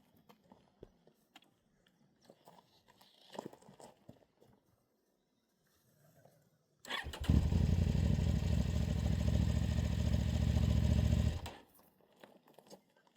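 A motorcycle engine starts up and runs at a steady, loud idle for about four seconds before cutting off abruptly, with quiet scattered clatter and handling noises before and after.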